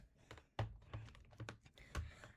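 A computer keyboard is picked up and handled, then typed on, with a scatter of quiet, close clicks and key taps, one heavier knock as it is set down, and no talk.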